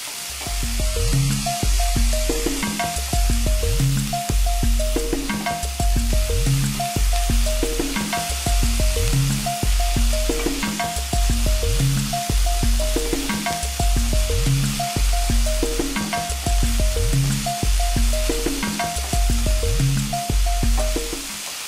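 Carrots, green peppers and onions fry in a pan, a continuous sizzle broken by regular rhythmic stirring or scraping strokes, close and fairly loud with no talking.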